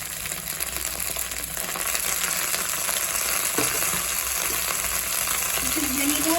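Chicken 65 sizzles steadily in a hot pan while it is stirred with onions, green chilies, curry leaves, ginger, garlic and chili sauces, a loud continuous frying hiss with faint scraping throughout.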